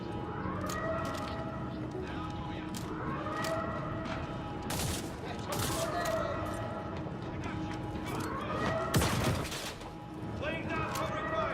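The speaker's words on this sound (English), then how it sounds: "Laying down covering fire." Covering gunfire in a space-combat video game: repeated bursts of sharp shots at irregular intervals over a steady hum, with tonal sweeps rising and falling between volleys.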